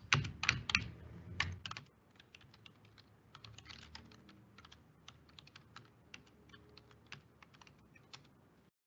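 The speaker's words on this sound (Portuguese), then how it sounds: "Aqui meu teclado aqui, ele está desconfigurado." Fast typing on a computer keyboard while coding, with a dense burst of loud keystrokes at first, then lighter, scattered clicks continuing steadily, no voice present.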